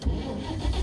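Car engine cranking over without catching, a short low rumbling churn heard close and alone with no voices.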